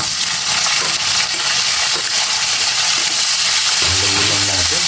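Sliced onions sizzle and crackle steadily in a hot pan as the base for Filipino pork igado, a loud, continuous frying hiss with occasional stirring scrapes and a brief low hum near the end.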